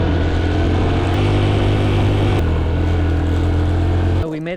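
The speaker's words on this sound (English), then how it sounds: "let's see if we can get the bike started" A motorbike engine in Laos runs steadily and close at a loud, even idle, with a slight shift in pitch partway through before cutting out abruptly near the end.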